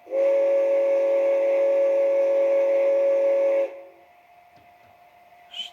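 A Bachmann G scale two-truck Climax model locomotive's sound system blows one long, steady steam whistle, loud and close, for about three and a half seconds, then cuts off to a low background hum.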